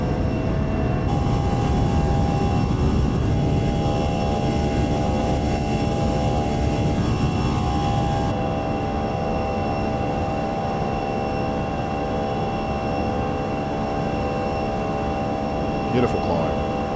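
Engines of an Airbus A320 climb after takeoff from Dubai in Microsoft Flight Simulator, a steady loud roar with a constant whine and hiss, a faint mechanical clunk near the end.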